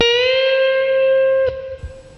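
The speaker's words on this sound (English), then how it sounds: "bend that one 2 frets." A distorted electric guitar note bends upward in pitch and sustains, then cuts off with a pick click and a faint following note.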